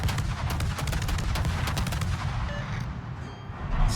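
Warship guns firing in World of Warships, with the Alvaro de Bazán in a match: a dense, continuous barrage of booming shots and rapid cracks, loud and sustained throughout.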